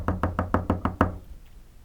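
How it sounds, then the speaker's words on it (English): Seven steady knocks on a door, evenly spaced and close, each a firm wooden rap, ending with a short fading tail and no voices. "And he knocked on the door."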